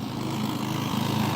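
A lawn mower engine fitted with a snow scraper in place of its blade deck, used to clear ice like a Zamboni. It gives a steady, loud, close drone with a constant hum and no pauses throughout.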